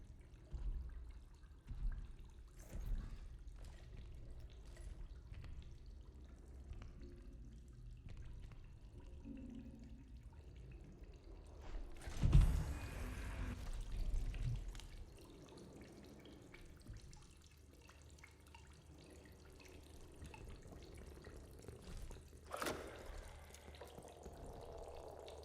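Running water in the horror game Routine flows quietly and continuously, with a louder surge of gushing around the middle that fades back to a soft trickle, plus occasional sharp clanks.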